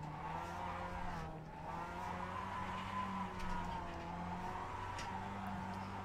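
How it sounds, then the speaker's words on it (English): Race car in Assetto Corsa Competizione held in a drift, tires skidding and squealing continuously with steady engine drone throughout, loud and close, brief dip near the start. "It's really hard to hold it in a drift"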